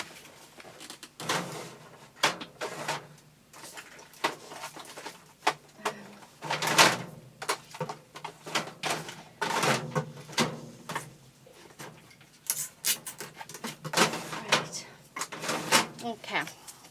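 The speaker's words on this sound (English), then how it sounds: "let me grab some quickly out the drawer" Desk drawer pulled open and rummaged through for a roll of double-sided tape, with irregular knocks, slides and clatters of objects at close range, and a person talking over part of it.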